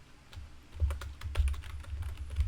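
Fingers typing on a computer keyboard, rapid irregular clicks of keys close by, steady bursts over a low background hum.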